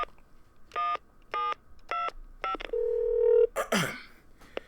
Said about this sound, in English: I need to make a phone call.